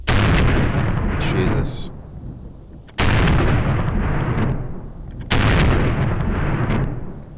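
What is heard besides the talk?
gunshots from a non-compensated 10mm MVP 2.0 pistol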